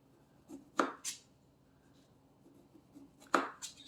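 A sharp knife chops through limes on a cutting board, two or three crisp cuts spaced a few seconds apart, close and quiet with no talking.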